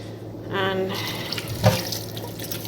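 Water running from a kitchen tap while cooking a holiday meal, a steady hiss with a brief splashing burst near the middle, close by, with some background voice faintly present.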